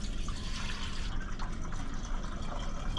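A gallon of water pours steadily into the fuel tank of a 1960 Harley-Davidson Panhead motorcycle, a continuous close gurgling and splashing stream lasting throughout without pause.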